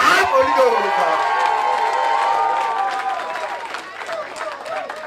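Congregation at a church service cheering and applauding, with shouts and clapping that swell loudly at first and then ease off, voices mixed into the crowd noise.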